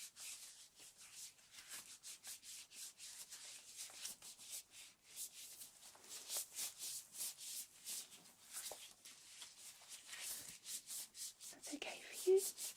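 Hands rubbing in cream during an ASMR nurse home visit, soft, close, repeated swishing and smearing strokes in an uneven rhythm, quiet and intimate, with a faint murmur near the end.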